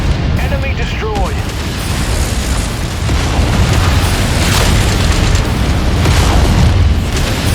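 Destroyed enemy mech exploding in MechWarrior 5, a loud rumbling blast with sustained booming debris and continuous heavy combat noise, with a voice speaking partway through.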